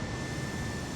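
A simulated airplane engine in Microsoft Flight Simulator 2020 drones as a steady, dense rumbling roar with a faint high whine, continuous and unchanging on a night flight out of Paris.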